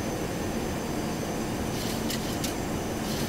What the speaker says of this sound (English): I'm going to go ahead and drop gear right now.